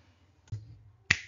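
Two crisp mouse clicks, close and dry, about half a second apart, with near silence between and around them.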